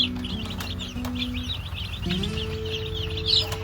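Newly arrived baby chicks peep in a brooder, a continuous high chatter of thin overlapping cheeps at close range, with a low steady hum underneath and no talking.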